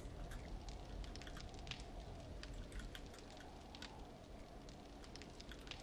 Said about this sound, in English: let's also make a campfire